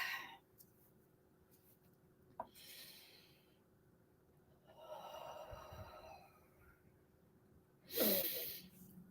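A person takes slow, deep breaths to settle down: a soft inhale, a longer airy exhale, then a sharper, snorting intake near the end, all close to the microphone in a quiet room.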